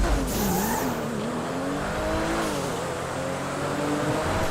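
A race car in GTA accelerates with a buzzing, rising engine note while its tires squeal and skid. The sound is continuous and fairly loud, with no talk over it.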